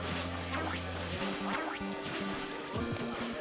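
Ducks in the Duck Hunt fighter's taunt from Super Smash Bros. 4 quack several times in quick bursts, near and loud, alone without any talking.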